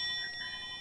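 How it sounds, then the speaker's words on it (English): A short, bright bell tone rings once on a radio call-in show to greet a first-time caller, a clean sustained chime with no voices over it. "First time you get the bell."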